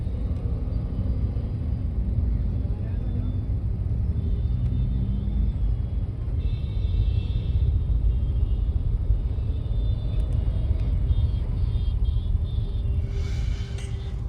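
A truck in a traffic jam gives a continuous low engine rumble as it is maneuvered out, loud and steady for the whole stretch, joined by some higher traffic noise toward the end.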